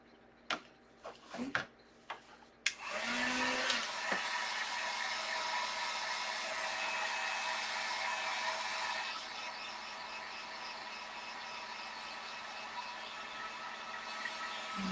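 A hair dryer blows on a painted scarecrow, starting after a few handling knocks and then running as a loud, steady whoosh that drops a little in level partway through without stopping.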